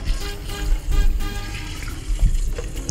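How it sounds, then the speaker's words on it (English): Running tap water splashes steadily as ingredients are rinsed in a sink, a continuous close gush with slight swells and no voices. "So I'll rinse very well."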